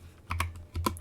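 A quick run of keystrokes on a computer keyboard, two short bursts of close, crisp tapping separated by a brief pause, with no voices.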